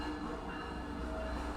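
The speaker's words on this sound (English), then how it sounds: "this train going crazy." A train rumbles steadily nearby, a continuous low rolling drone with faint rail hiss and tonal whine, moderately quiet and without talk.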